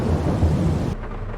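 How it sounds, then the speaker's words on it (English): Heavy rain pours down in a farming video game, a dense, loud rushing wash with low rumbling underneath, easing slightly partway through. "Well, that rain's really coming down now."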